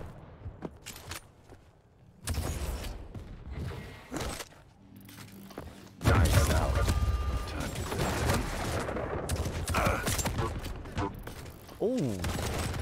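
Rockets fire in the arena shooter Quake Champions during a tournament semi-final, with bursts of blasts and explosions rising and falling amid game effects and a commentator's voice.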